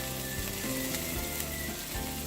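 Green chili paste sizzles in hot oil, a dense steady hiss of frying with faint stirring scrapes, close and continuous with no talking.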